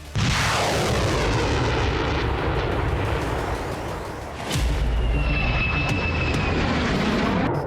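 US Air Force fighter jets fly sorties, a loud continuous jet roar sweeping past close by with a brief dip and a heavy thump midway, then the engine noise swells again and carries on.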